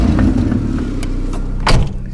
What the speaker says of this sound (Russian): Мне кажется, это глушитель прогорел.